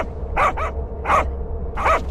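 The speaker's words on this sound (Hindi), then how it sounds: "उसी रास्ते के एक कोने में दो कुत्ते खड़े थे जो हमें देखकर लगातार भौंकने लगे" Dogs on a roadside corner give three short barks at a medium distance, spaced evenly over a couple of seconds against a low steady background hum.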